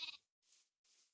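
Three sheep bleats in Minecraft survival, a wavering bleat followed by two softer ones with short gaps between, no talking.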